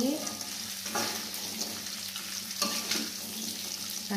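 Tempeh with spices stirred and fried in a pan, a constant close sizzle broken by scraping strokes of the spatula at intervals.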